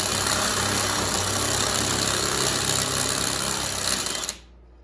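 A DeWalt DCD998 hammer drill boring through PVC, a loud, steady, close whine with grinding texture that runs continuously, then cuts off abruptly near the end.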